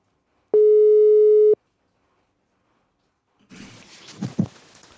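A telephone call signal sounds while someone is being called: a single clean tone about a second long, then silence, followed by faint voices in a call.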